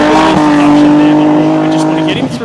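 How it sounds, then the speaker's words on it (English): A drift car on a qualifying run in a drift championship clips the inside ripple strip, its engine droning loud and steady with a brief rumble of the kerb near the end, while a commentator talks over it. "Look, he's touched that inside ripple strip."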